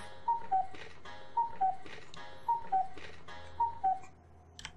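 Old cuckoo clock in the game Banned Memories: Yamanashi, wound and ticking: a quiet, regular pattern of paired tonal chimes and ticks repeating about once a second over a soft hum.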